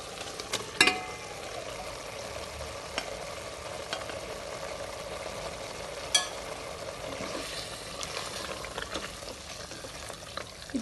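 Marinated chicken frying in hot oil for a Karnataka-style Donne biryani, a steady low sizzle with occasional stirring clinks and scrapes across the pan, close and moderate in volume.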